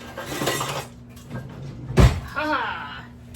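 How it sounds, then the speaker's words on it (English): A cooking pan is pulled from a kitchen cupboard, giving one sharp clattering knock of metal and wood midway, with a person talking before and after it. "let's get our pan out"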